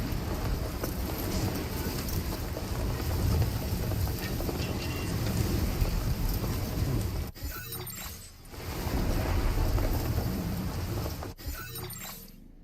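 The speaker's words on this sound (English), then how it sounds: "Storm's coming through." Heavy rain and storm noise from the video game Death Stranding 2 roar in a dense, continuous wash, broken twice by sharp cracking bursts of thunder.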